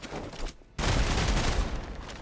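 Gunfire erupts in the Marvel's Midnight Suns video game, starting with a short burst, then a brief lull, then a dense, loud sustained volley that continues to the end.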